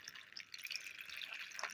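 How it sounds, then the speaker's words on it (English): Five thin streams of water trickle steadily into the rock-filled basin of a small Dollar Tree LED tabletop fountain, a soft continuous splashing and dripping heard up close without talk. "has these 5 little streams of water that come down from the top, and they land in this basin"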